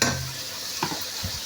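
Bottle gourd pieces dropped into a pan of fried spice paste, giving a steady close sizzle with soft stirring scrapes and a couple of brief thuds.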